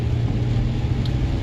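Car interior on a drive along foggy roads, a loud steady low engine and road rumble with no speech.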